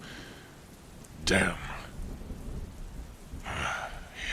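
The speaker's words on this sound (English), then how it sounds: "This storm was supposed to be past by now." Steady rain falls through a thunderstorm while travelling outdoors, with a sharp crack of thunder early on and another rumbling burst near the end; a voice speaks briefly over the downpour.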